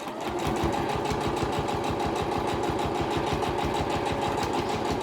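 A domestic sewing machine runs steadily at speed stitching a straight seam through cotton fabric for a washable face mask, its rapid even needle chatter and motor hum continuous and close, with no talk over it.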